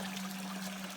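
Water from a bilge pump trickles steadily out of a slotted bucket in a gold-crushing setup, a close, even wash of flow with a low steady hum beneath it.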